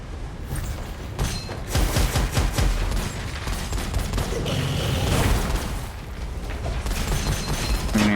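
Rapid, dense gunfire clatters in Gunfire Reborn, a first-person shooter video game, with bursts of shots and booming thumps layered over game music, loud and sustained throughout.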